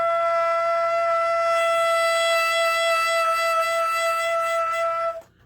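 A saxophone holds a single high F sharp, played with the high F sharp key, as one steady, bright, sustained tone for about five seconds that cuts off cleanly at the end.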